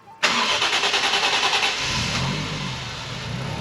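A car engine fitted with a newly built custom exhaust cranks and fires at once into a loud, rapid, pulsing startup, then eases into a steady, rumbling idle.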